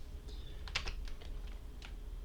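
Keystrokes on a computer keyboard while entering an Excel formula, several crisp separate clicks spread across a couple of seconds over a low steady hum, quiet and close, with no talking.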